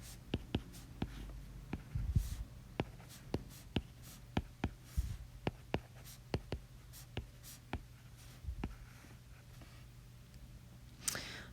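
Pen strokes on paper while writing out a system of equations as an augmented matrix: close, quiet scratchy taps and short strokes in an irregular rhythm, heard alone.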